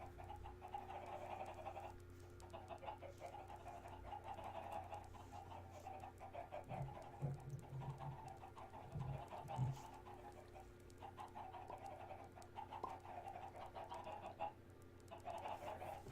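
Chickens on a Minecraft chicken farm cluck and murmur in a low, busy mass, with occasional louder clucks standing out over a steady background hum.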